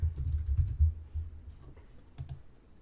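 Typing on a computer keyboard, a quick run of close, soft key taps with a brief pause and a couple of final clicks.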